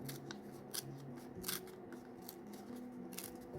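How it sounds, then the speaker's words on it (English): Paper is torn by hand around a piece of ephemera for a journal, with a series of short, crisp rips spaced irregularly, close and quiet. "So what if we just tear around it"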